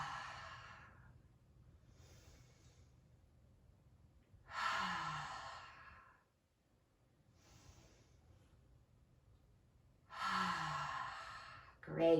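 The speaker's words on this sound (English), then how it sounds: "So we inhale through the nose, exhale through the nose or mouth." Slow, deliberate breathing during a children's yoga session: two long cycles, each a drawn-in breath followed by a fuller, louder exhale, with quiet pauses between, close and unaccompanied.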